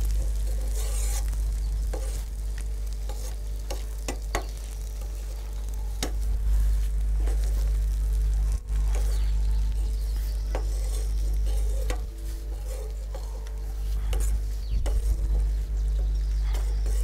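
Potatoes frying in oil for a potato roast, a steady dense sizzle with occasional stirring clatter throughout, loud and continuous with no talking.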